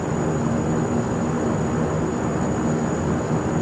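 A Saab 340A turboprop in the X-Plane 11 flight simulator taxis with a loud, steady engine drone and a constant high whine, unbroken and without talk.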